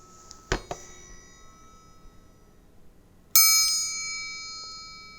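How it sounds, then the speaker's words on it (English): A triangle struck twice, quick bright metallic rings around the half-second mark, then one louder, clear strike that rings on and slowly decays over nearly two seconds. "Sounds like a chime. It's called a triangle."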